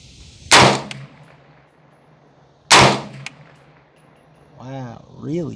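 Two loud, sharp gunshots ring out a couple of seconds apart from a budget 300 Blackout rifle at an outdoor range, each cracking and echoing briefly, followed by someone speaking.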